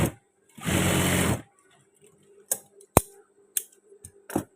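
A sewing machine stitches trousers in one steady whirring run of under a second, followed by scattered light clicks and taps of fabric and parts being handled, close by and with no talk.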